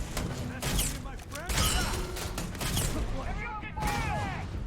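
Mutineer pistol fire in the sci-fi game Starfield, a run of rapid, close gunshots in bursts over busy game combat noise, with a voice talking over it.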